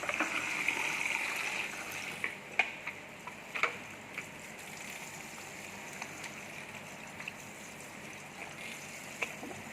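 Water runs steadily as shampoo is rinsed out of hair at a salon, a soft continuous gushing and splashing close by, broken by occasional faint clicks and taps.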